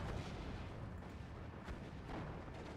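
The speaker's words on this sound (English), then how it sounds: "He's only firing one of his 2 guns. But it still takes out the Stug." A wargame artillery gun in Steel Division 2 fires with a heavy, rolling boom, a dense, muffled roar of distant gunfire and explosions that holds steady throughout with no voice over it.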